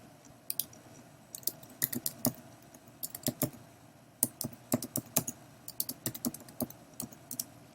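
Someone types a search into Amazon on a computer keyboard, sharp close key clicks in irregular quick bursts with short pauses in a quiet room.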